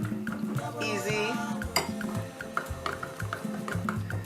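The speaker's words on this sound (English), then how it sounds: "I'm just going to mash up this egg. You can use your potato masher like this" A potato masher presses into a hard-boiled egg in a bowl, producing repeated soft squishing thuds and metallic clinks against the dish in a steady rhythm, close and fairly loud.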